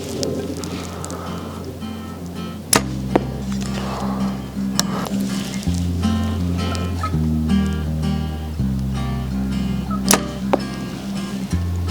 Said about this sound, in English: So we're gonna shoot a few arrows and make sure the bows are still sighted in.